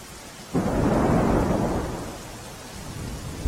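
Heavy rain pours steadily on villages in Mansa taluka, Gandhinagar district, Gujarat, while a deep roll of thunder swells and then fades. No voices are heard.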